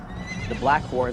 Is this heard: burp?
no